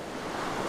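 Sea waves wash steadily onto the shore at a seaside holiday spot, a soft continuous surf rush heard alone and fairly faint, with some wind noise.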